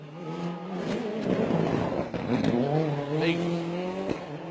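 Kevin Proctor's 2.5 litre R5 Ford Fiesta rally car on a corner at Rally Barbados drops through the gears with sharp blips, then the engine climbs and holds a loud, near, rising note, with a brief word over it.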